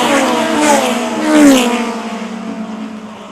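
Short track race cars roar past at a Super Short Track Racing Series event, engines revving loud with a rising-and-falling drone as the pack passes, one swell peaking then fading as they pull away.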